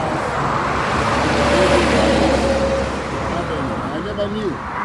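Steady roar of cars on a busy highway beside the University of Ghana Business School in Accra, a continuous broadband wash of passing vehicles with an engine hum rising and falling, heard near and loud throughout.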